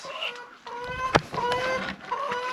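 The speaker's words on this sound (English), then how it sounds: "the chicken want to go out" Chickens at a home cluck and squawk in a rising, repeated pattern, close by and fairly loud, with one sharp knock or clatter partway through.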